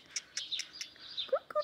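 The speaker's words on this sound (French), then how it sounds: "Coucou petit merle." A blackbird calls in a garden with a quick series of bright, high chirps and whistled notes, fairly faint and irregular.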